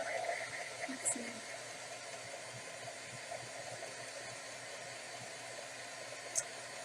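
A hair dryer blows steadily on freshly painted acrylic artwork, giving a continuous broadband whoosh that runs at even, moderate loudness from start to finish, with faint background voices underneath.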